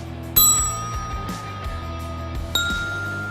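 A struck key of a percussion instrument rings out twice, each strike giving a bright metallic ping that sustains and slowly fades, the second hit coming about two seconds after the first.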